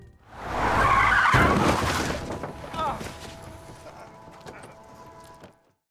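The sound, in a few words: car skidding as a man is hit by a car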